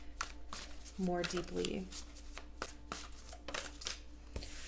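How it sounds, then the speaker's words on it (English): Tarot cards being handled and shuffled during a reading, producing a series of crisp papery riffles and soft taps under a woman's speech, with a fuller burst of card noise in the middle. "let's get the tarot cards out and then we will explore that"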